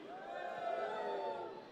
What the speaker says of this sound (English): MCM Birmingham, I want to hear you cheer on 3.